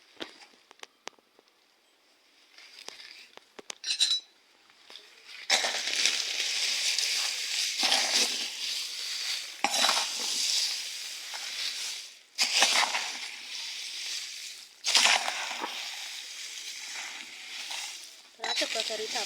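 A 2.5 kg batch of whole chilli spice mix is stirred by hand in bursts of dry rustling and crunching, with short pauses between strokes and a voice talking at the start.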